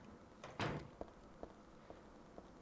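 A door opening in the video game Silent Hill 3, one short creak and thud followed by several faint, evenly spaced clicks or footsteps in a quiet space.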